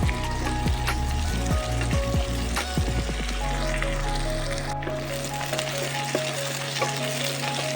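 Chopped cabbage and other vegetables frying in a pan, giving a loud, dense, continuous sizzle close by, with scraping stirs and a few knocks in the first half before the hiss settles. No one speaks.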